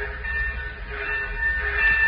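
Steady rumbling and humming of a train in a 1940s radio drama sound effect, with a sustained whistle-like tone over the continuous low rolling noise.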